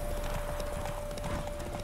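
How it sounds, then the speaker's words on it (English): Horse galloping on a derby racetrack in The Witcher 3, a steady run of hoofbeats over a loud, dense wash of game noise with a constant tone, no talk. "Is that just some random horse running the racetrack as well?"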